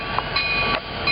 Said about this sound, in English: Union Pacific engines.